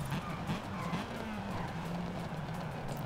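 A car in Forza Horizon 5 slides through a drift, its engine droning and wavering beneath a steady scrubbing tire squeal, close and continuous throughout.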